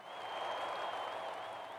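Crowd cheering at the Charlotte track in a racing video game, a dense, steady roar of applause and noise from a massed audience, even in level throughout with a thin high tone running above it.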